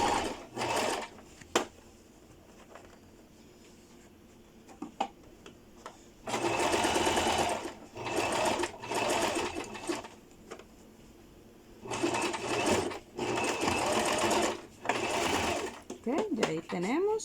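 A sewing machine stitches a skirt waistband in several bursts of rapid whirring, a few seconds each, separated by pauses, with a nearby voice talking between and around the runs.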